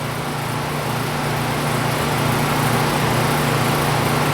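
Turbo vacuum pump attached to a vacuum chamber, running steadily as it spins up to full speed, a continuous loud mechanical whir with a rising high whine over a low hum, alone.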